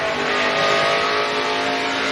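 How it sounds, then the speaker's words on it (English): NASCAR race trucks at Iowa, their rear tires fighting for grip as loud engines roar steadily close by, with a faint scrubbing edge of tire noise beneath. "You can hear the rear tires fight."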